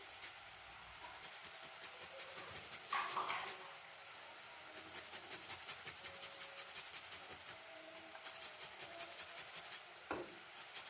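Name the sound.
grating a small piece of fresh ginger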